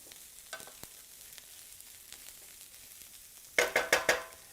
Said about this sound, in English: Brussels sprouts, coconut oil. Get those spun around a little bit.